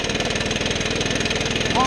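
Bushranger L261 string trimmer running just after a pull start: a steady, fast-pulsing small two-stroke engine putter, close and moderately loud, holding even throughout.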